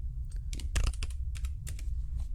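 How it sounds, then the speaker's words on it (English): Quick bursts of typing on a computer keyboard, close and fairly loud, with uneven clusters of key clicks and brief pauses between them, no voices. "You just correct my awful typing."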